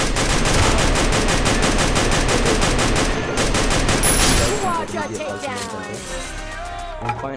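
Dense automatic gunfire rattles in a battle royale video game, a fast unbroken stream of shots for several seconds. It cuts off and leaves softer in-game effects and a sharp click near the end.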